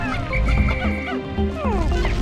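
Pikmin creatures in the Pikmin video game die with chicken-like clucking squawks, a quick run of high, bending cries and warbles over a busy game soundtrack.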